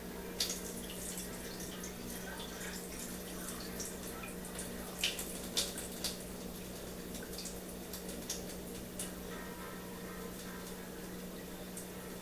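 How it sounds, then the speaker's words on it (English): Excess liquid poured off a bowl of peeled fruit while canning, a low trickle and splash under a steady background hum, with a few brighter drips and spatters scattered through the middle. "There's quite a bit of liquid in here from those. I'm going to just dump a little."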